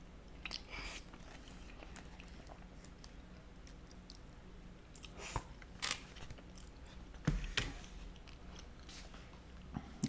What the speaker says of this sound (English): Again, I'm sorry if you guys heard my chewing,